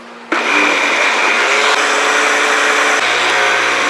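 A kitchen blender whirs loudly and steadily, puréeing broccoli and spinach into a smooth mix, its motor pitch shifting slightly as the contents churn, with no voices over it.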